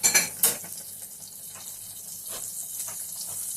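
Leaves for a spring vegan Nurse Gem salad dropped into hot clear fat in a pan, a few sharp clinks at the start, then a soft steady sizzle running quietly underneath.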